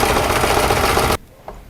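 A sewing machine stitches lace trim onto a doll in a loud, rapid, steady mechanical rattle that stops abruptly, followed by quiet and a single faint click.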